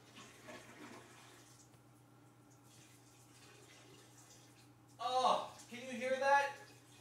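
Cold water runs from a tap, starting suddenly as a close, loud gush in two short bursts after several seconds of quiet room hum, with someone talking softly beforehand.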